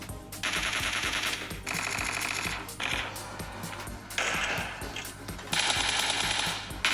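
Gunfire in the PUBG video game, played on a smartphone: bursts of rapid automatic fire separated by short pauses, crisp and fairly loud, with no speech over it.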